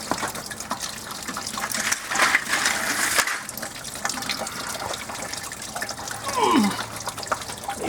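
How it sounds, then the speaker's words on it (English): Liquid dripping and trickling from a 1986 Camaro IROC Z28 during engine teardown, with uneven splashes and a gushing pour into a container, close and fairly loud, with brief clanks and some voice mixed in. "Dripping in places"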